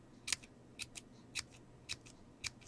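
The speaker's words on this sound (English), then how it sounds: "I'm going to take my little scissors this time" Small scissors snipping washi tape, six crisp separate cuts at an uneven rhythm, close and clear over a quiet background, with no talking.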